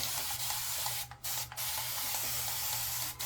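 A spray bottle wets a head before a shave: two quick bursts, then a third, each a short close hiss over a low steady hum.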